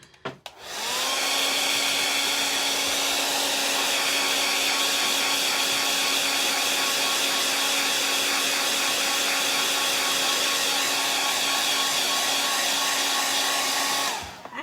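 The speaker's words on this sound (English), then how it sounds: "we need to blow dry that and then go back over it" Hair dryer blowing on wet paint on a door hanger, switched on with a quick rise into a steady loud whine and airy roar that holds for about thirteen seconds before cutting off.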